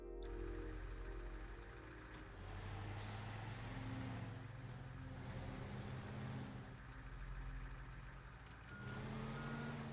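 A large truck in the Teardown game backs up with steady repeating reversing beeps over a loud low engine drone and air-brake hiss, continuous throughout.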